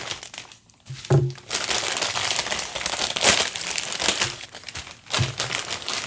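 Plastic packaging with bubble wrap being cut open and pulled apart while unboxing a Best Jeanist figure, giving close, continuous crinkling and crumpling with a few sharper tearing bursts and no talk.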